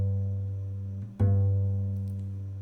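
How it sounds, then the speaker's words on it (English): A double bass G string is plucked and left to ring as a single low sustained note, struck once partway through and fading slowly, close and alone. "here's the sound of my bass"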